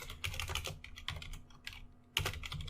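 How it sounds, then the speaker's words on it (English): Keys clatter on a computer keyboard in quick irregular bursts with brief pauses, close and moderately quiet, entering a MAC address at the command line, with no voices. "You simply just type any MAC address you want."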